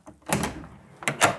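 A door in an isolated remote lodging opens or closes with a couple of close wooden knocks and clunks, then two more sharp thuds a moment later.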